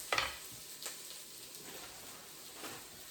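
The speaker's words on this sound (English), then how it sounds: "I'm going to let these onions cook first" Sliced onions sizzle and crackle softly in a hot pan with a few light stirring clinks, close and fairly quiet, with no talking.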